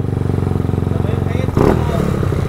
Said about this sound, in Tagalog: umaandar na yung 220cc